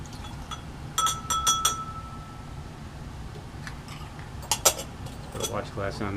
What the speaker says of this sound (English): Put a watch glass on there so it doesn't evaporate.